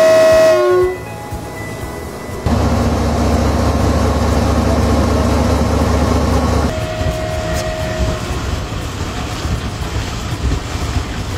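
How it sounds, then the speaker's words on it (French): Railway wagons at the Simandou iron ore mine in Guinea, loading for the port, with the loud steady rumble of a long train and a horn sounding near the start, no talking. "les wagons de train sont en phase de chargement pour"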